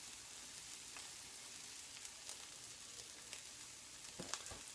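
Onions fry in a pan for New Orleans pasta, a quiet, even sizzle with occasional crackles and pops, close by and steady throughout.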